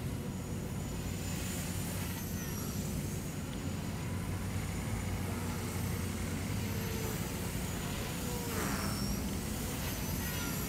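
A Walkera V120D02S flybarless mini 3D RC helicopter flies steadily with a continuous whining motor and rotor drone, a few faint higher tones sliding across it, with no voices present.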